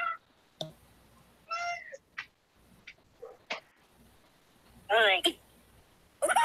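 A pet cat named Jack gives a couple of short meows, close and moderately loud, between bursts of people chatting nearby in a quiet room.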